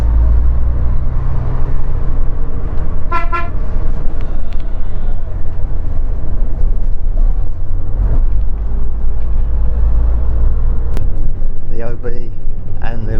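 A vintage Duple Dominant coach engine runs with a low, continuous rumble close by on a vintage road run near Felixstowe, mostly beneath someone talking, with wind buffeting and a couple of brief higher whines.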